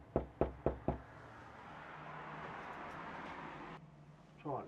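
Four quick, firm knocks on the door of an abandoned house, followed by steady traffic and ambient hum, with a brief voice near the end.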